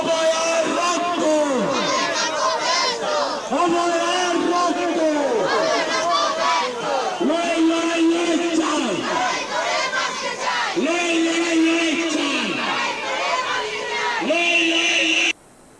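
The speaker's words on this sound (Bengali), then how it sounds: "এই তাদের স্লোগান" Clay artists from Kumartuli chant slogans in unison at a street protest rally, a loud crowd of voices rising and falling in repeated call-and-response bursts throughout, with shouting and babble between chants.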